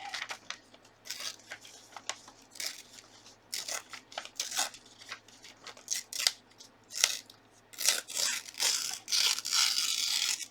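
Paper torn by hand for a gluebook: a series of close, crisp ripping bursts of varying length, some quick and short, others drawn out, with pauses between them.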